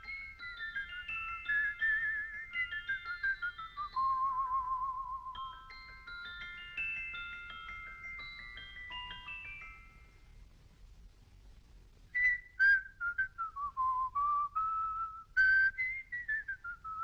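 A person whistles a melody matching a musical box tune, clear and close, a flowing line of pitched notes that pauses midway and then resumes with a short repeated phrase.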